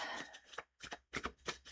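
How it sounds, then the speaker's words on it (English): A tarot card deck being shuffled by hand, several short brushing and sliding bursts in quick succession, soft and close, with no talking. "I'm going to shuffle it one more time."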